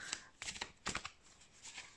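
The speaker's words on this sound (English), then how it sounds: "Let me shuffle." Tarot and oracle cards being shuffled by hand, a run of close riffling, flapping bursts in irregular clusters over a quiet room.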